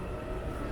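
A subway train rumbles in a Seoul metro station as a steady, loud low roar with no breaks, heard close and alone.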